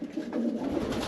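A young racing pigeon cock gives a short, close, low throaty coo lasting about a second, with no one talking over it.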